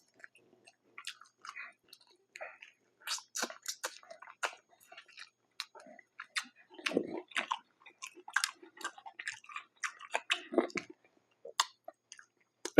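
Close, wet chewing and crunching of fried shrimp and French fries with mild sauce from Harold's, irregular bites and mouth sounds at low volume, with occasional soft murmurs.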